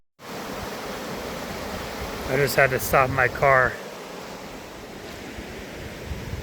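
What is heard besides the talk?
river water flowing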